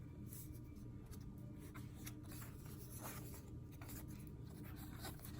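Paper gets creased and folded around a book cover, quiet close rubbing and scraping strokes in short bursts with no talk.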